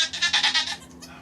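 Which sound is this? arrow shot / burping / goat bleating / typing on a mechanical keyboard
goat bleating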